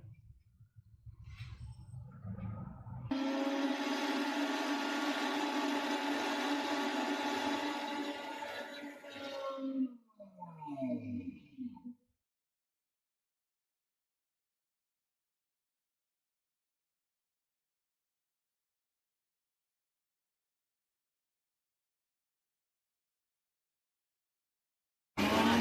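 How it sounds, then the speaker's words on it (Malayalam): Mixer grinder blending mayonnaise ingredients with oil, a loud motor whir running about seven seconds, then spluttering to a stop, followed by long silence. "ഇനി ഇതിലേക്ക് നമുക്ക് ആവശ്യത്തിന് ഓയിൽ ഒഴിച്ചു കൊടുത്ത് വേണം ഇത് അടിച്ചെടുക്കാൻ."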